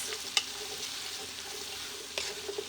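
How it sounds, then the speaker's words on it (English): Onions with a pinch of salt fry gently in a pan for a butter chicken base, giving a soft, steady sizzle with a couple of sharp clicks of a utensil against the pan. "let's wait about 10 to 15 minutes and cook our onions"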